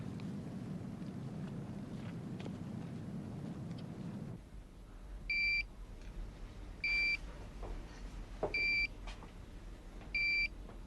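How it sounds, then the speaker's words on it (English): An alarm goes off in four repeated electronic beeping bursts, evenly spaced and fairly loud over a steady hum, after a rumbling low noise cuts out. "she's only set off one alarm"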